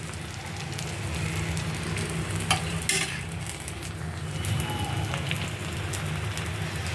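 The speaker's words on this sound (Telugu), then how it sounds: "ఉల్లిపాయ వేగనిద్దాం. కొంచెం నూనె వేద్దాం. నూనెతో కూడా వేగితే బాగుంటుంది." Onions sizzle steadily in hot oil in a pan while cooking pesarattu, with a continuous crackling fry and a few sharper clinks of stirring, loud and close throughout.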